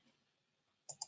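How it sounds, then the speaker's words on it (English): A double mouse click on a login button, two quick faint taps close together after near silence. "So clicking on login."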